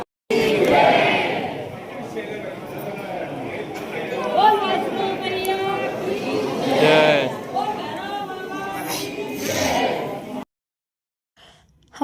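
A dense crowd of pilgrims waits in a queue at Vaishno Devi, with loud overlapping chatter and calls that stay close and constant before cutting off abruptly near the end.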